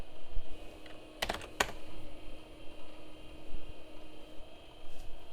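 A few sharp keystrokes on the keyboard of a Leading Edge WinPro 486 computer, two distinct close clacks in quick succession over a steady fan hum, then only the hum.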